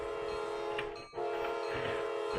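A train in a Roblox driving game rolls along with a steady, loud hum and a sustained horn-like drone that briefly dips about halfway through.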